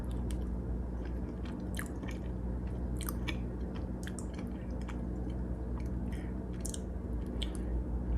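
Close, moist chewing of homemade pimento cheese made with fresh jalapenos, with soft squishy bites and small crunches repeating irregularly over a low steady hum.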